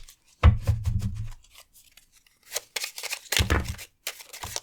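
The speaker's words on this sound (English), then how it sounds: "so we'll shuffle it off screen" A deck of tarot cards being shuffled up close, a few bursts of riffling and slapping card sounds separated by short quiet gaps.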